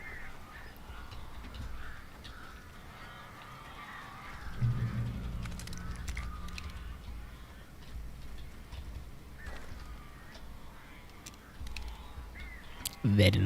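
Crows cawing in Alan Wake Remastered: scattered harsh caws rise over a murky, rumbling game ambience, with voices and other noises mixed in and a loud burst at the very end.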